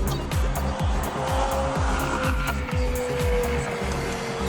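Cars racing at speed through highway traffic as if on a circuit: a loud, continuous engine roar with rising and falling revs and a steady high whine, close and unbroken, with no talking.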